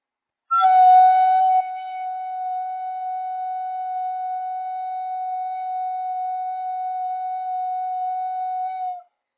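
A single clear wind-instrument F sharp held steadily for several seconds, with a slightly breathy start, then cut off cleanly.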